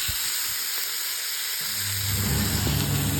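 Wrap frying in a smoking hot pan, a steady close sizzle and hiss that thickens with crackling after a moment.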